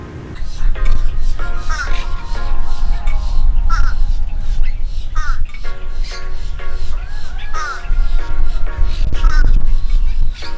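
Crows caw repeatedly at Sandsprit Park in Stuart, Florida, their harsh calls fairly close and recurring every second or two over outdoor background noise, with people talking throughout.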